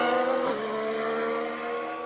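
A 2016 Haas Formula 1 car drives past during pre-season testing at the Barcelona circuit, its engine a loud, sustained high-pitched whine that drops gradually in pitch as it goes by, with no talk.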